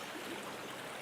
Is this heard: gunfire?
no